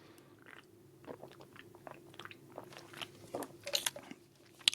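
Close, quiet biting and chewing of a Nestle Crunch chocolate bar, with soft crunches and crackles scattered irregularly and growing a little louder toward the end.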